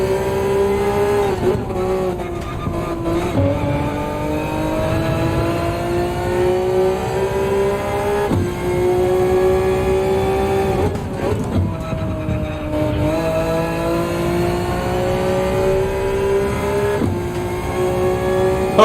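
Race car engine in Gran Turismo 7 at Brands Hatch, loud and continuous, revving high and dropping sharply at repeated gear shifts and braking points, with brief tire squeal and no talk.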